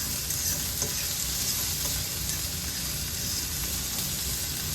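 Vegetables sweating in a hot pan alongside ground beef, a steady close sizzle and crackle of frying with faint stirring, continuous and fairly loud, no talk.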